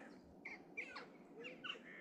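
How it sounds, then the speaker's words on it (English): A few short bird calls sound at a distance outdoors at a scenic spot near a kiln built to burn for decades, with sharp chirps spaced irregularly over a faint background. "I can recognize bird song"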